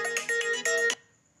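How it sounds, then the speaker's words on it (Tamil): A mobile phone ringtone plays a quick, bright melodic pattern of tone bursts for about a second, then cuts off and leaves near silence. "இருடா ஃபோன் வருது."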